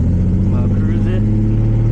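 Datsun 240Z engine idling along slowly in low gear, a loud steady low rumble with even harmonic throb and no revving, heard close up from inside the car.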